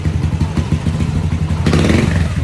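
A motorcycle engine running and revving during an engine check, loud and close, with a rhythmic thumping idle that rises into a harder rev near the end.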